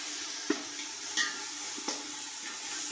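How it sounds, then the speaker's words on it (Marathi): Ginger garlic paste frying in a pan for chicken pulao, a soft steady sizzle with a few brief stirring clinks and scrapes, quiet and close, no voices. "आता मी याच्यात 4 चम्मच अद्रक लसूणचं पेस्ट ऍड करत मस्त असं फ्राय करून घेणार आहे।"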